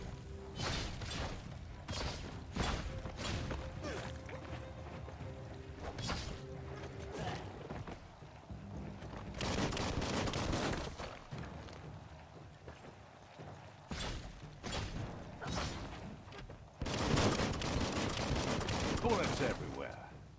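Gunfire in the video game Biomutant comes in repeated bursts and rapid volleys with short gaps between them, fairly close and sharp, along with clanking mechanical effects.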